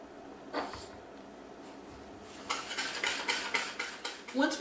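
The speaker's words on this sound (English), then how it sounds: "we're going to mix together 1½ cups of white sugar, along with 4 eggs that have been lightly beaten, and about 1½ teaspoons of vanilla" Sugar, beaten eggs and vanilla for Black Russian brownies get stirred in a bowl, at first with sparse scrapes and then with a run of rapid, rhythmic utensil clinks against the bowl, close and fairly loud.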